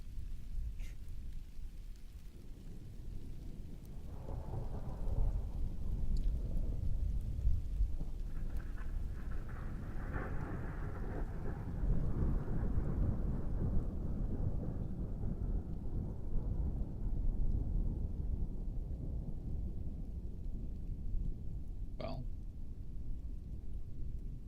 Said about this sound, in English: that thunderstorm wouldn't have happened